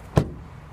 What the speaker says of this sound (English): Then door closing sound here.